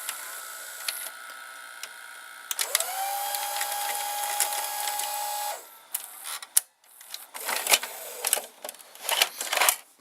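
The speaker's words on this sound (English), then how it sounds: "When I press stop, it loads back the tape on the heads" An MTC MCR 215R VCR threading tape back onto its heads after stop is pressed: mechanical clicks, a steady whirring motor hum, then a run of clunks and ratcheting clatters close up, with no talk.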